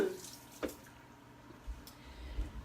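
Tap water rinses a piece of broccoli at a kitchen sink, with soft splashes and drips that come in a few brief, quiet bursts.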